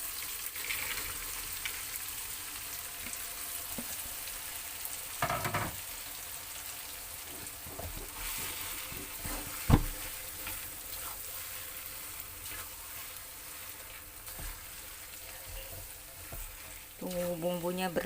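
Potatoes stir-fried into cooked spice paste for sambal goreng kentang, a steady broad sizzle and crackle running throughout with occasional scraping stirs and a sharp clink near the middle, no talk.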